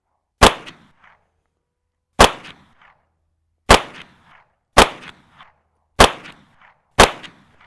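Six sharp, loud shots from a Kimber Micro 9 9mm pistol, fired singly at irregular intervals of about one to two seconds, each with a short echoing tail and silence between.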